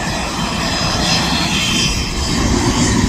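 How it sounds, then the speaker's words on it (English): An Aer Lingus airliner at Manchester Airport gives a loud, steady engine roar that stays close and strong throughout, with no voices. "But there is now officially one of the biggest planes Aer Lingus sends into Manchester Airport"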